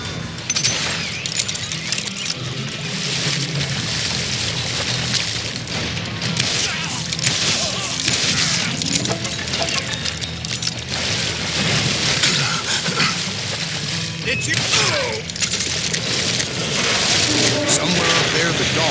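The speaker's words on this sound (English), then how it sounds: "a fusillade of bullets come raining down from on high" Gunfire volley in the Western shooter game Call of Juarez Gunslinger, dense crackling bursts of shots and ricochets running steadily throughout under a music bed.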